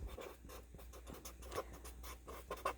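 A marker squeaks and scratches across a classroom writing surface in short, quiet strokes, with no voices.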